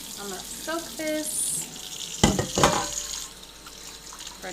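Water runs from a kitchen tap into a bowl being left to soak, a steady splashing wash that grows louder in the middle with a few clattering knocks, mixed with faint room noise.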